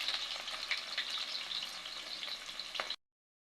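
Onions sizzle in hot oil in a pot for mutton korma, giving a steady, close crackle with occasional sharper pops for about three seconds before cutting to silence.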